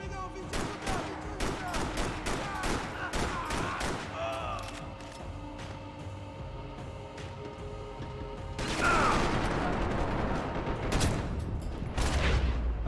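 Rapid bursts of video game gunfire, automatic fusillades and single shots crackling in dense clusters, then a louder stretch of firing near the end, with mechanical clicks between volleys.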